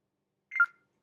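A short telephone tone, one brief electronic blip like a keypad beep or phone chirp, heard alone in silence.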